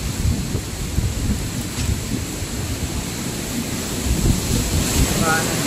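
Typhoon Rolly lashing a house with steady, loud wind and heavy rain, a continuous dense roar with gusty rumbling throughout and no voices.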